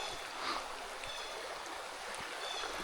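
A small, shrunken creek flows in a steady broadband wash, with soft trickling and gurgling water close by running continuously with no talk.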